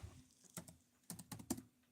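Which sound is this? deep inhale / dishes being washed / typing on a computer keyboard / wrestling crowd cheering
typing on a computer keyboard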